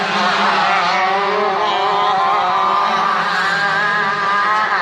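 A pack of 80cc shifter karts at the IKF Grand Nationals screams past with several overlapping high-revving engines, loud and continuous, giving a dense buzzing wail throughout.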